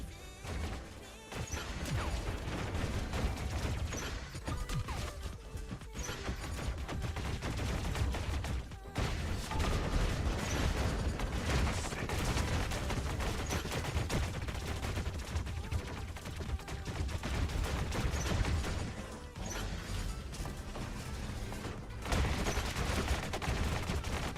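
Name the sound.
gunfire hitting a reflector shield in the video game War Robots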